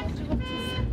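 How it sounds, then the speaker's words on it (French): Car horns blare in a gridlocked city intersection, several overlapping tones honking together at close range in a dense, continuous burst. "Concert de klaxon."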